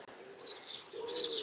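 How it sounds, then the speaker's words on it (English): Pigeons in a garden give a faint, soft cooing call, with two brief low murmurs about half a second apart and a slightly louder second one near the end. "Oh, there's 2 pigeons in my garden."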